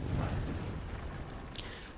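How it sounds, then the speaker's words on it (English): A rocket barrage detonates in the strategy game Forts, a dense rumbling roll of overlapping blasts with a few sharper pops near the end, heavy and loud for about two seconds. "And now rocket onslaught."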